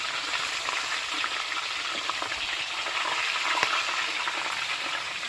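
Pig's head bathed in hot frying oil, a dense continuous sizzle and crackle with small pops, steady and close throughout with no talking.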